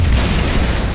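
A grenade goes off in a video game match, a single loud, dense boom with a broad rumbling body that fills the whole second without a pause.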